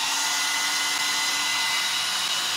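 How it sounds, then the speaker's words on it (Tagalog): A hair blower, wired in place of a valve in an air-conditioner control panel, roars with a loud, steady whoosh that holds without a break. "palitan natin ng hair blower. Tingnan nyo ha, ang readings. I-on ko."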